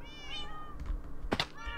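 Minecraft cats in a cat pit give short, close meows, with one meow at the start and another at the end, and a sharp knock sounds between them.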